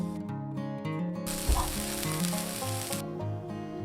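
Fifty grams of chopped onion hit hot oil in a Teflon pan and sizzle steadily, a bright hiss that swells for a couple of seconds and then settles beneath a soft music bed.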